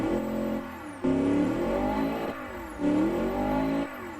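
Car engine in the Automation game revving repeatedly, loud surges climbing and dropping about every second and a half, with no talk over it.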